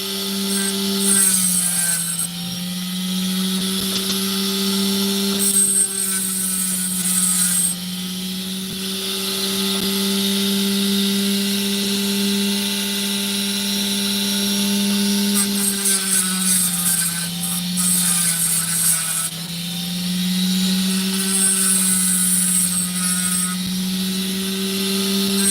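A power tool grinds steadily through sand while mining opal, a loud sustained whine with a low drone that dips and rises in pitch as the load changes, running alone for the whole stretch.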